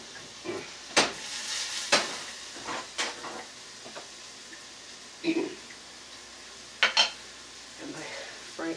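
Cooking with Ackman: a spatula stirs and scrapes food sizzling in oil in a pan, with several sharp metallic clacks against the pan spaced through the stir and a steady fry hiss underneath.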